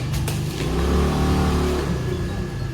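A vehicle, such as a motorbike, passes on a road at night, its engine swelling to a loud mid-pitched drone as it approaches, then fading as it goes by.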